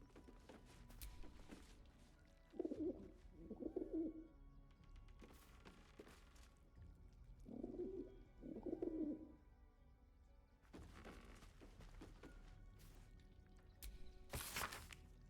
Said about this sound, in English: The bird coos its approval